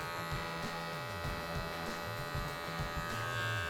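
Electric hair clippers buzz steadily and close up while a haircut is given, the hum running unbroken, with small shifts in pitch as the blade moves against the grain and around the ears.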